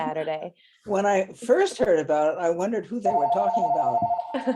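A telephone rings with a steady electronic tone under a person talking, on a livestream.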